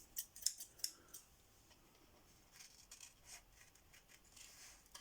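Scissors snipping through paper up close, a few crisp cuts at the start followed by softer rustling and slicing strokes, quiet with no talking.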